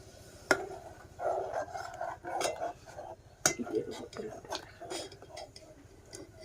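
An electric heater stove is set down onto two bricks, producing a few sharp clinks and metallic knocks amid shuffling handling noise, with someone talking throughout.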